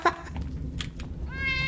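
A cat meows in a Harry Potter video game, a short cry at the start followed by a longer, drawn-out tonal meow near the end over a low background hum.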